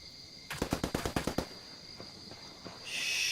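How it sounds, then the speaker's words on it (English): Gunfire in a video game match: a rapid burst of about eight sharp shots, followed by a few softer scattered shots and a rising hiss of background noise. "Shots going in."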